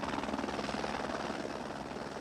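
A Vietnam War helicopter gunship flies with a constant, dense rotor chop and engine roar, close and steady throughout with no talk.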